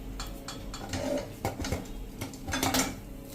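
Metal clatter and clinks of a pressure cooker lid being lifted off after steaming dhokla in a home kitchen, several sharp knocks and scrapes close up over a low background hum.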